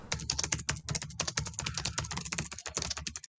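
Fast, forceful typing on a computer keyboard, a dense run of sharp key clacks at close range with no pauses until it stops abruptly near the end.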